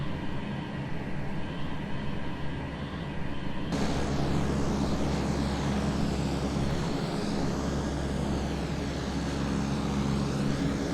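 C-130 cargo plane in a flight simulator game, its propeller engines droning steadily and loudly throughout, with a low constant hum and a broadband roar that thickens partway through.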